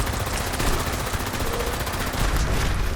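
Sustained, rapid automatic gunfire from the V63-Helga weapon in a video game, a dense, continuous rattle of shots that stays loud for the whole stretch with no pauses.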